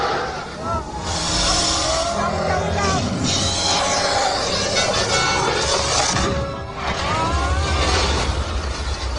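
An eight-seat DeLorean time machine ride speeds up with a loud, steady roar and crashing effects under continuous talk and excited voices.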